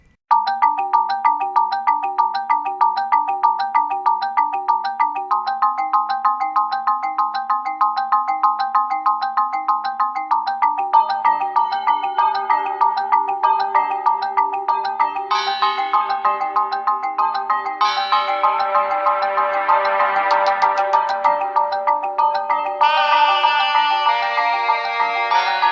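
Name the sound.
Lanayru Mining Facility dungeon theme music from a Zelda video game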